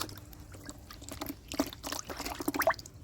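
Fresh water poured over live koi fish in a kitchen before cooking: an uneven splashing trickle that builds into a fuller pour with sharp drips near the end, close by.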